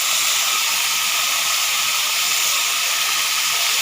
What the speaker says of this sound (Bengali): এবার আমি এতে দেব সয়াবিন